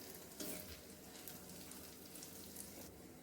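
Cashews sizzling and frying in oil in a pan over a very low gas flame, a steady soft crackle with occasional brighter spatters, quiet and close, no voices.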